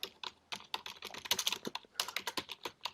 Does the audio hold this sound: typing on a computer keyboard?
yes